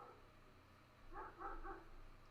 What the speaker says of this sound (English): As the dog barks outside, which you guys can probably hear.